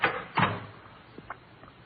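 A door opens or closes as a sound effect in an old police radio drama, with a knock-like clunk at the start, another around half a second, then softer latch clicks, heard alone and fairly close.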